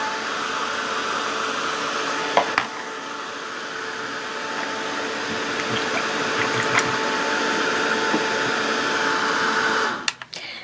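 A hair dryer blows steadily to dry paint on a Halloween arrow craft project, a constant airy whoosh for about ten seconds with a few faint clicks before it shuts off.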